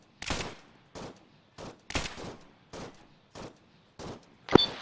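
Gunfire in the military shooter ArmA III, with about eight sharp shots or short bursts at uneven intervals and brief silences between them. The last report is harder and closer, and no one speaks.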